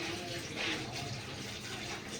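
Water splashing and running as vegetables are washed by hand in a village kitchen, a steady wet rushing with a brief swell of splashing, fairly close.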